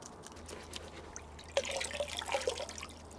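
Water runs and trickles over Fuji cherry bonsai roots as they are washed, a soft steady drip and splash that grows busier and louder partway through, with no one talking.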